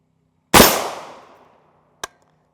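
A single sharp gunshot from a 152-grain round with a hardened tool-steel penetrator strikes a level IV body armor plate, a loud crack that rings and decays over about a second, followed by a brief softer impact knock.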